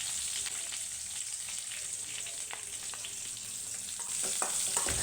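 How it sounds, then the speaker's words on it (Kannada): Sliced onions frying in a pan, a steady broadband sizzle and crackle with occasional stirring scrapes, close and fairly loud throughout, growing slightly louder near the end. "ಈರುಳ್ಳಿ ಸ್ವಲ್ಪ ಕಂದು ಬಣ್ಣ ಬರೋವರೆಗೂ ಫ್ರೈ ಮಾಡ್ಕೊಳ್ಬೇಕು"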